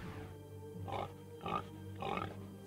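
A pig that has escaped and is running wild grunts in three loud, close bursts spaced about half a second apart, over a steady background drone.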